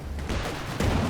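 Tank gun fire in Company of Heroes 2 during a 2v2 match, a dense booming blast surging louder near the end amid continuous battle rumble.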